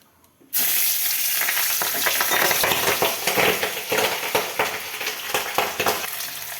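Large pabda fish frying vigorously in a pan: a loud, close, continuous sizzle starts abruptly, full of popping crackles, with no voices.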